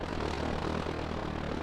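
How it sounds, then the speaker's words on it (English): A drone flies overhead in a multiplayer PvP video game match, a steady droning aircraft-like hum that stays fairly faint and continuous. "I hear the Yavin drone up"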